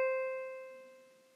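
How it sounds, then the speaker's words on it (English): A single sustained musical tone, the note C in the third space of the treble clef, struck once and ringing with clear steady overtones as it fades quietly and evenly. "C sits on the third space in the treble clef staff and sounds like this."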